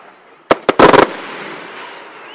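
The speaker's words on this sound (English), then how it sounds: "The fireworks are fired from tubes on a trailer." Fireworks shells fired from tubes on a trailer let out several sharp, loud pops and bursts in quick succession, followed by a fading rumbling tail.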